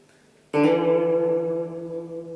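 The open D string of a guitar is plucked once, giving a sharp attack that settles into a ringing, slowly fading tone. It is close, with no voices.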